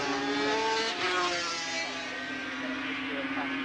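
Superbikes racing through McLean's corner at Donington during a 1982 World of Sport Superbike Challenge, a loud high engine whine sweeping past with shifting pitch, continuous under a commentator's voice.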